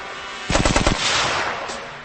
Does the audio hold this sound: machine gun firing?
yes